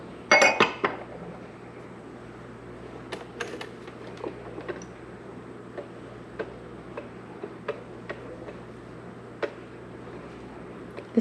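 Honey bar batter is stirred in a bowl, the spoon making sparse, light clinks and taps at an uneven pace, close by and fairly soft, after one louder clatter at the start.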